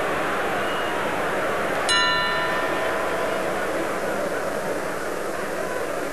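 A boxing ring bell strikes once to end a round, a single bright ding that rings out briefly over crowd noise and a commentator's voice.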